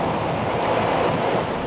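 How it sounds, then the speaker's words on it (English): Storm wind roars with surf crashing against a car during a tornado outbreak in Andover, a steady, loud, dense rush of wind and water from start to finish. "the water's just whipping up, the wind is whipping up, the surf is just coming right across the front of our car"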